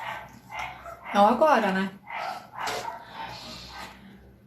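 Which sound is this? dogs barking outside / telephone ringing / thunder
dogs barking outside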